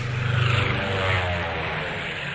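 Propeller airplanes flying over Ledo, a loud steady droning engine roar with a faint throb that rises slightly and then holds, with no voices.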